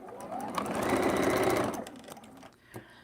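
A sewing machine runs steadily for about a second and a half, stitching quilt fabric for a mini quilt stocking, with a brief ramp up and a slowing stop, then quiet handling sounds.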